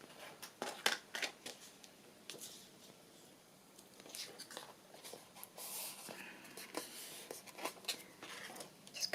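Scissors cut around paper pieces for a handmade journal, a quiet close series of irregular snips and rustles with soft handling noises between.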